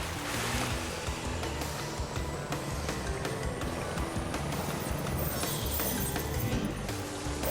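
Jet ski skimming over water in Crash Bandicoot Warped, a steady loud wash of spray and engine noise with scattered sharp clicks and crashes throughout.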